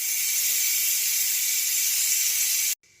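A Ninja Foodi electric pressure cooker vents steam in a loud, continuous hiss that holds steady, then cuts off abruptly near the end.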